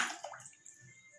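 A steel object drops into water in a classroom float-or-sink demonstration, making a short splash and gurgle followed by faint dripping that dies away within about a second.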